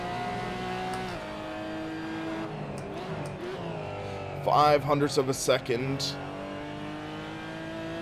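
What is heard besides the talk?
Porsche Cayman GT4 Clubsport race car engine, Assetto Corsa video game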